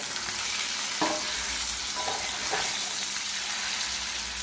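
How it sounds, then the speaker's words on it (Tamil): Masala-coated fish fries in a pan over a medium flame, giving a steady, close hiss and sizzle throughout with a few faint clinks of a utensil. "மீன் பொரிக்கும் போது அடுப்பை மிதமான தணலில் வச்சு பொரிச்சு எடுத்துடலாம்"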